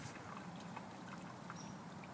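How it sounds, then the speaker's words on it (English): Muddy, dirty water pours into a homemade gravity-fed charcoal filter, a soft steady trickling and splashing that stays faint and even, with no talking over it. "I'm just going to pour in all this nasty, muddy, dirty water"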